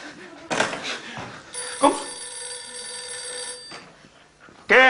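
A telephone bell rings with a sustained bright metallic tone lasting a couple of seconds, mixed with voices, bumps and handling noises in an indoor scene, then a sharp electronic chirp right at the end.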